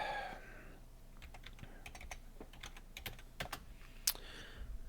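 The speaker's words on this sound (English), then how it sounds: "And I'm going to type in my path." A folder path is typed on a computer keyboard, with scattered light key clicks at an uneven pace and one sharper tap near the end, fairly quiet and close, with no talking.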